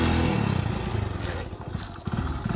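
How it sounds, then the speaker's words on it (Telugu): A motorbike engine runs with a low, chugging rumble close by, its pulsing idle firing unevenly and dipping midway as if struggling to catch, then picking back up. "బండి స్టార్ట్ చేయాలి నువ్వు ఫస్ట్."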